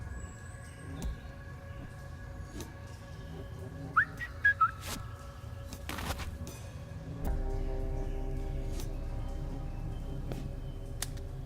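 Whistling in the video game Trüberbrook, two short rising whistled notes in quick succession over a quiet ambient backdrop with scattered clicks and a low hum, fairly close and clear.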